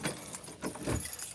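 A ring of keys jingles and clatters close up in a short, continuous metallic shuffle, fairly quiet and with no one speaking.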